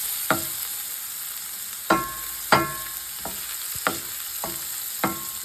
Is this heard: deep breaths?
no